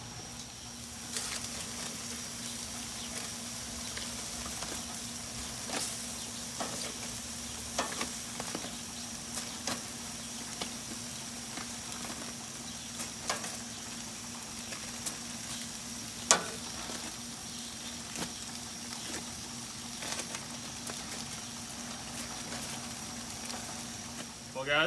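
BBQ chicken kabobs on a grill give a steady, close, crackling sizzle that runs the whole time, with scattered pops and clicks from handling and a constant background hum.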